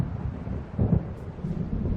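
Low thunder from a storm rolling in over dark lake waves in the video game Alan Wake Remastered, a continuous deep rumble with a heavier swell near the middle, heard alone with no voices.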